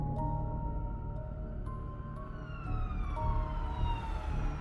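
A police car siren wailing along a residential street, its rising and falling tone sweeping repeatedly over a steady low rumble of vehicle noise, fairly loud and with no voices.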